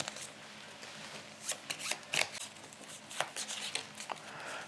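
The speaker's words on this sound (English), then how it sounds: "we'll get the reshuffle" Playing cards shuffled by hand during a solo board game of Mosaic: A Story of Civilization, heard as several short riffling bursts with quiet pauses between them, close and alone.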